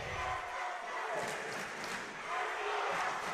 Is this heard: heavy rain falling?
no